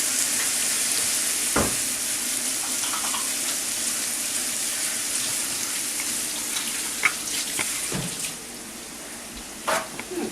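Sausage frying in a pan hisses steadily while a utensil stirs and scrapes it, with a few sharp knocks and clatters against the pan at close range.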